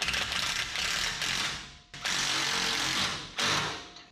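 Rapid ratchet clicking while bolting a fender onto a 1967 Toyota Stout, three sustained bursts of fast mechanical ratcheting separated by short pauses, close and loud.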